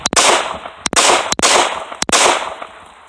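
Four sharp, loud handgun shots fired with a loose, limp one-handed grip, evenly spaced about 0.6 seconds apart, each cracking close and ringing out briefly before the next.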